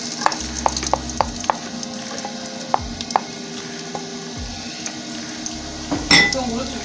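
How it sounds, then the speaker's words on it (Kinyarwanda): Onions added to hot oil in a home kitchen sizzle steadily in a pan, with a few sharp clinks of utensils against the pot and a louder stir or scrape near the end. "Turatangira dushyiramo amavuta. Kadushyiramo ibitunguru."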